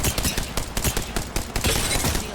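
Rapid automatic gunfire rattles continuously during a loud Apex Legends firefight, with dense overlapping bursts of shots throughout.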